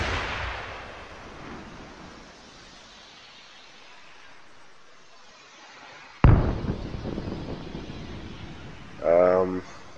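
An RPG launching an OG-7 anti-personnel warhead in Arma with RHS weapons: a single sharp, loud blast with a trailing rush and rumble, followed shortly by a brief voice.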